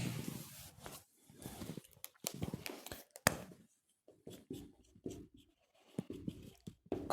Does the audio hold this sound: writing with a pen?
yes